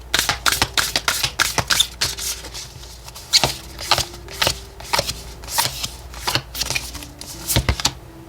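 Oracle cards shuffled by hand at a tarot reading, a run of crisp riffling slaps and flutters in quick irregular bursts, close and clear with no talk over them.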